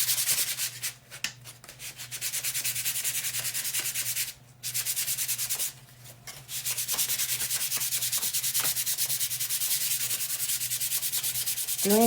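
Sanding a wooden Easter basket bench insert by hand, a steady rapid scratchy rubbing that runs continuously with two brief pauses, close and fairly loud, no talking.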